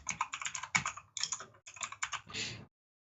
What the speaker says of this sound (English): Finish typing your stuff and then I'll try it.